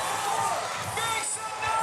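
An arena crowd roars and cheers steadily as fans rally on their feet. The broad, sustained noise fills the space throughout.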